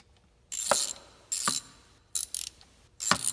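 A ratchet wrench tightens a bolt on a motorcycle during a stage 2 performance kit install with flywheel and valve cover work, giving four loud, close bursts of rapid clicking with short pauses between them.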